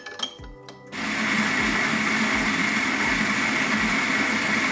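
A La Marzocco Swan espresso grinder starts after a few light clicks and then grinds coffee in a steady, fairly quiet whir with faint rhythmic pulses, close by and without speech.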